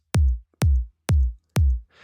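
Four deep, punchy kick drum hits tuned to C sharp, spaced evenly about half a second apart, each with a booming low tail, loud and dry with no other sounds.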